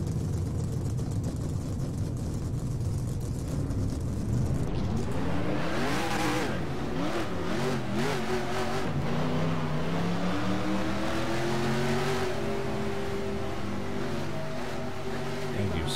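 NASCAR Racing 2003 stock cars roar past in a continuous loud drone, with engine pitch sweeping up and down as cars accelerate and pass in the pack.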